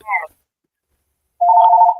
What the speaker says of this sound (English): This mother effing phone rings all the time when we're talking